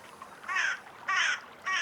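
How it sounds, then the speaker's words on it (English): A crow out in the woods gives three loud, harsh caws at close range, evenly spaced over quiet background ambience. "Hello, Crow."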